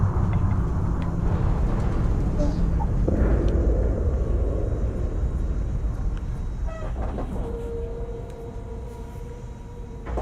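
Spaceship engines at full thrust in a Star Wars game, a loud, steady, broadband rumbling roar filling the whole stretch, with a few brief tonal blips and beeps layered on top later.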